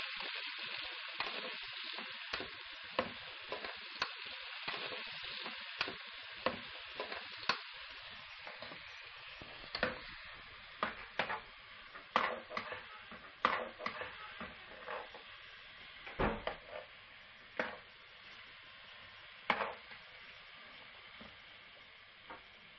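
Ampalaya (bitter melon) and sotanghon glass noodles sautéed and stirred in a pan, with a steady sizzle broken by repeated scraping and clattering stirring strokes, close and fairly quiet, no talk.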